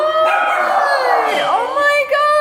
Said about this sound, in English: Oh my God, my doggies! They're excited.